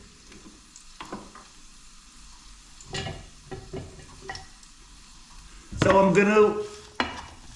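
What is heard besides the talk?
chopped onion sweating in a pan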